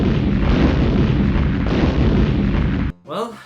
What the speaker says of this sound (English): I should let those explosions take their time, right?